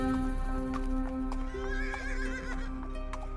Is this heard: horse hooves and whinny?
yes